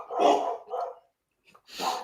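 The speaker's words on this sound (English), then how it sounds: "the dogs decided they wanted to say hello to the neighbors" Two or three dogs barking at neighbors, a pair of quick loud barks followed after a short pause by another close bark, with no other sounds.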